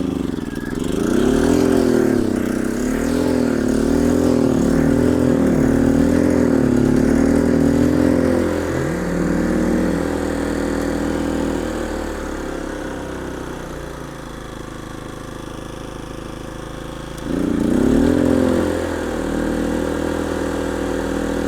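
A Westinghouse 2200iXLT portable generator runs after a carburetor repair, its small engine surging and hunting in wavering pulses, then settling into a steady idle before revving up again near the end.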